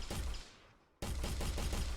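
Gunfire from a video game under development, a loud burst of rapid shots that fades to near silence and then resumes as a steady string of evenly spaced reports.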